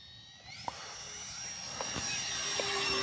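An E-flite Twin Otter RC plane, 1.4 m span, takes off with flaps down, its electric motors whining and rising steadily in pitch and loudness. A few faint clicks sit over the tone and outdoor rumble, and no one speaks.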